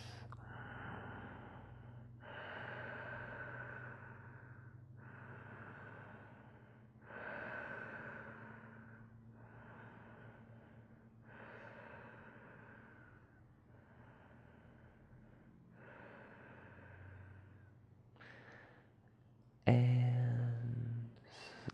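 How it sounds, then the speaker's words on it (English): Slow, deep breathing during a yoga relaxation pose, about eight long even breaths in a quiet room, close and soft, ending with a louder shuffle. "Big, gentle, full breaths"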